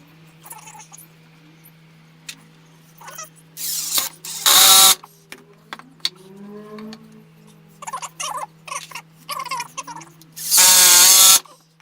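A power drill drives screws into workbench wood in short whirring bursts, two long loud runs standing out from the quieter taps and handling noise in between.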